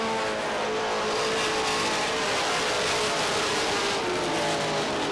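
Short-track race cars at Beech Ridge Motor Speedway in 1990 roar in a dense, continuous pack, engines loud and unbroken across the whole stretch with a slight swell near the end.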